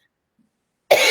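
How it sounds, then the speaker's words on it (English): After nearly a second of silence, a single short, close cough bursts out sharply and holds briefly to the end. "Excuse me, I've been having a cough."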